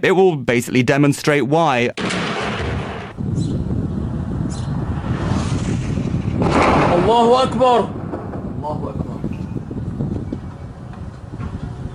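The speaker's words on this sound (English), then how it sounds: "But you hear violence and shelling and air attacks on what are likely to be civilian areas" Shelling and artillery fire in Syria, with heavy rumbling blasts rolling continuously through most of the stretch, while someone talks briefly at the start and distant voices chant partway through.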